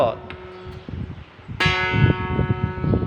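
A plucked khim string, the lower of three tuned to the note A, rings out with a bright, sustained metallic tone that decays slowly, while someone talks quietly underneath.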